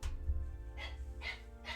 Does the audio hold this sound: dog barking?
yes